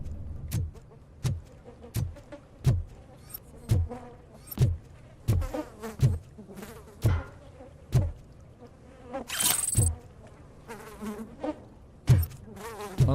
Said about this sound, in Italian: queste mosche sono così reali